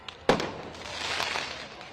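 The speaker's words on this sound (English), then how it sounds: "We had individuals out there shooting commercial-grade fireworks at our officers." Commercial-grade fireworks fired toward police on a blocked freeway during a protest: one sharp loud burst followed by crackling, sputtering noise that carries on to the end.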